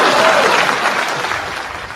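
Applause sound effect played from a soundboard during a live election night watch party, a steady burst of clapping that fills the whole moment and tapers slightly toward the end.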